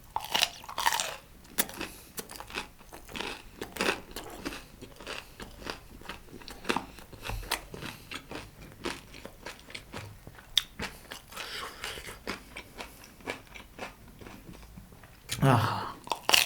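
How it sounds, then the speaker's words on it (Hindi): Kurkure snacks from a local fast food corner crunch loudly and repeatedly as someone bites and chews them up close, with a few quiet vocal sounds in between. "ये पहली बार ट्राई कर रहा हूँ उनके कुरकुरे"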